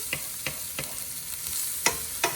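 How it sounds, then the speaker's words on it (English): Onions frying in a pan give a steady broadband sizzle, with a few sharp stirring scrapes or clicks spaced through it and no talk. "going to put this onions in. Make sure you can hear the sizzling noise."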